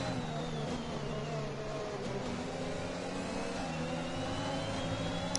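F1 cars racing in Bahrain in the F1 2021 video game, several high-pitched engine whines layered and shifting in pitch, steady and moderately quiet, no voices.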